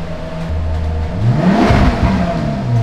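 A Maserati's Ferrari engine revving up from idle, a close, loud rising growl that climbs in pitch and then falls back to a steady hum.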